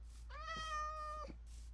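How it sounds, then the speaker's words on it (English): A cat mob in modded Minecraft gives one drawn-out, clear meow, rising at the start and holding steady before fading, alone over a faint low background hum. "there's a cat behind here"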